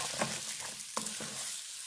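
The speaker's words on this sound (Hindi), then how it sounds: "और अब हम इसको अच्छे से मिक्स करते हुए इसको पका लेंगे।" Stirring a thickening pea mixture in a pan, with a few soft scraping strokes over a steady low sizzle, close and fairly quiet.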